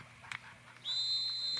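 A referee's whistle blows once, a sustained shrill tone held steadily at a boys lacrosse game, heard over faint crowd and field noise after a couple of brief thumps.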